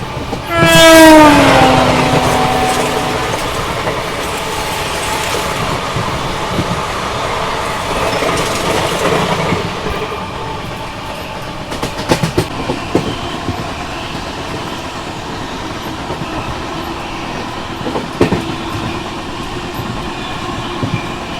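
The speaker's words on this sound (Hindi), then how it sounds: "अपनी ट्रेन ने मस्त स्पीड मेंटेन कर रखी है, अराउंड 130 की" An LTT Mumbai–Chennai Express runs at around 130 km/h. It opens with a loud horn blast, then a steady roar of wheels and rushing air with scattered rattles and clicks.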